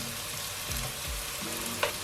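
Ground coriander, smoked paprika and ground cumin toasting in a frying pan, a steady close sizzle and crackle with occasional soft stirring scrapes.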